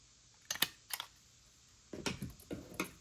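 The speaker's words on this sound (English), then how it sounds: "And I'll still staple it on there as well." A stapler pressing through a paper greeting card, a few sharp close clicks and snaps in two groups separated by a quiet pause, no talk.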